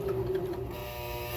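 A sewing machine fitted with its strongest needle stitches in a brief rapid whirring run, close and fairly loud, settling into a steadier motor hum.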